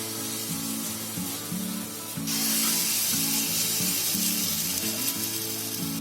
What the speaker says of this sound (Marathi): आता पॅन तापलाय. आता थोडा गॅस आहे ना बारीक करते आणि त्याच्यामध्ये एक एक चमचा सोडते छोटे छोटे.